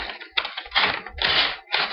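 Case BackPocket knife with chestnut bone handle cutting through a paper envelope, heard as several close, rough tearing and slicing bursts separated by short pauses, no talk.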